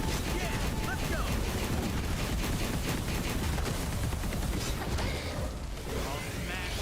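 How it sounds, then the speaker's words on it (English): Rapid gunfire and mechanical clatter from the Punishing Gray Raven game form a dense, loud, continuous barrage that is mixed with game voices. "No one can escape my bullets."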